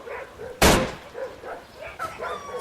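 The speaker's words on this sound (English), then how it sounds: "gained the unwanted attention of a pack of feral dogs" A pack of feral dogs barks and growls in repeated rough bursts, interrupted early by one loud, sharp gunshot-like bang from a Walther PPK.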